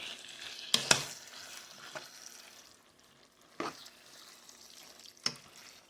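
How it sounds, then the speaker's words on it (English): A spoon scrapes and stirs a mixture of vegetables, soup and ketchup in a pan for shepherd's pie, with soft sizzling and a few sharp clacks against the pan. "Get all those vegetables and that soup and the ketchup all mixed up in there"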